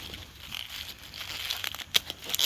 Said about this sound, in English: pull out my shears, and then simply cut from the base